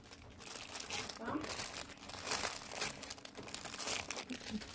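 Paper crinkles and rustles in bursts while a K-pop photocard package is unboxed, close and uneven, with people talking over the handling noise.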